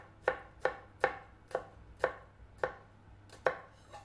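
A kitchen knife chops through an ingredient on a cutting board for spicy Italian meatballs, eight sharp evenly spaced knocks, close and clear, with no talking.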